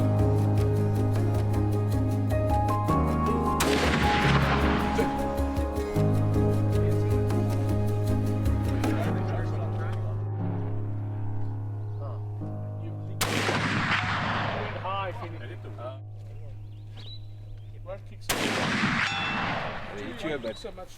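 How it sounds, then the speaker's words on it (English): Gunfire just outside the suburbs: several loud, sharp bursts of shots with metallic ringing, the first long volley lasting several seconds, then two more separate blasts with decaying echoes, over a steady low hum and no talking. "So much shooting off that."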